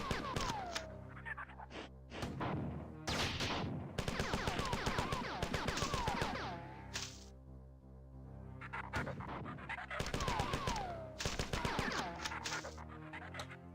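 Gunshots from the Marathon video game, heard as rapid, loud volleys of sharp cracks in bursts separated by brief lulls over a dense, busy game soundscape.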